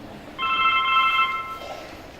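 A cell phone ringtone going off in a classroom during a school musical: a bright, steady electronic tone for about a second, clearly heard over low room noise.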